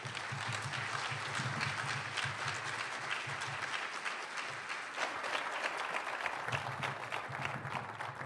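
An audience at a labor and employment law event claps to welcome Secretary Acosta, a steady dense patter of applause lasting several seconds over a low hum.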